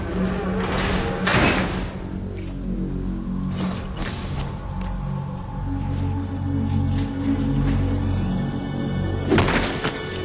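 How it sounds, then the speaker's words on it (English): Door opening in the video game Metal Gear Solid 2, a few sliding thunks and thuds over a steady game soundtrack, with a louder burst near the end. "Open the door for another cutscene"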